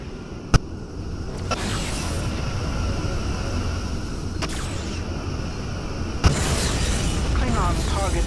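A destroyed Klingon ship explodes in the Star Trek Legacy space combat game, with sharp booming blasts over a constant rumbling drone and a final heavier burst that swells into louder rumbling.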